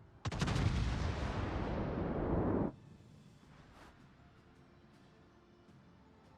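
A warship's main guns fire a salvo in World of Warships, a sharp loud blast followed by a roaring rumble that cuts off after about two seconds, then quieter background with faint distant pops.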